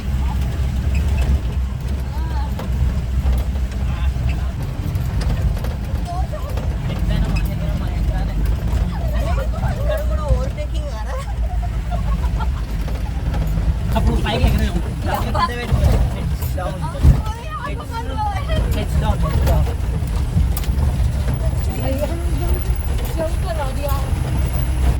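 Jeep climbing an off-road hill track in Wayanad, a steady low engine rumble with bumps and rattles throughout, louder jolts midway and a sharp knock near the end, with faint background chatter.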